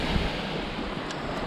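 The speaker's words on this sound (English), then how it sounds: "I like the sound of those waves crashing on the shells." Waves wash and crash over shells on a beach, a dense continuous rushing roar close to the microphone with wind buffeting, no voices.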